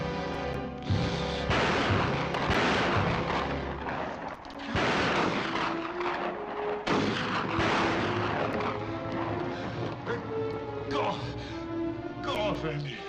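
Gunfire in a 1951 cowboy film: several sharp shots and booming reports scattered across the scene, mixed with music and shouting voices.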